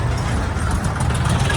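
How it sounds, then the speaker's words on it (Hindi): Four-wheeler car on a road, a steady mid-range engine rumble holding level and fairly close, with no distinct rise or fall of a pass-by. "गाड़ी आ रही है भाई, 4 व्हीलर साइड देना पड़ेगा मुझको"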